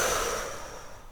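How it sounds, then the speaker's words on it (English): Slow mouth exhale during prenatal breathwork, a soft breathy rush of air that fades gradually over about a second, close and quiet with no talking. "and we exhale through the mouth."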